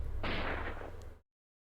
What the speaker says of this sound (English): Suddenly, a gunshot rings out, and Kaori falls down.